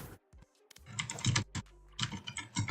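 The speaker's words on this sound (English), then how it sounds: "Typing this aggressively." Fast, hard typing on a computer keyboard comes in dense bursts of sharp clacks, close and loud, with brief pauses between runs.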